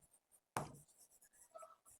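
Pen or pencil scratching across paper while working out a Class 8 math problem, a firm stroke followed by several short, quiet scribbles with brief pauses, close and alone.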